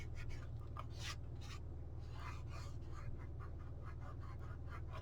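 A hand rubs repeatedly across the fabric surface of a book spine, making soft, close scratchy strokes over a steady low background hum.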